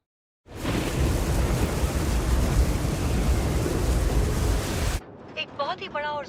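Steady loud roaring rain and rumble of a thunderstorm. It cuts off abruptly, and a voice follows.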